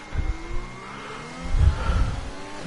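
A racing car engine in a sim racing game at Bahrain revs hard on a flying lap, a short burst of rising and dropping pitch with a couple of throttle blips, loud and close.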